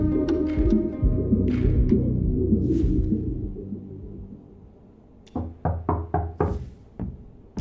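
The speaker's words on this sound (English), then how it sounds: "Instead, you hear footsteps approaching the door." Footsteps approach a door in the game Rue Valley, a run of about six evenly spaced, sharp thumps that follow a fading stretch of music and lingering tones.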